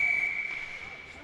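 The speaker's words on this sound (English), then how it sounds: "and a whistle blown" Referee's whistle at a junior ice hockey game, one long shrill blast that holds steady for about half a second and then fades, set against muted arena ambience.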